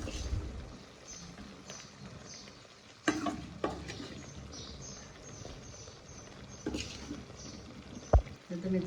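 Okra pieces tipped into a pan of simmering yogurt gravy for Gujarati dahi bhindi, with a few stirring scrapes, sudden clatters and a quiet sizzle underneath, mostly soft and close.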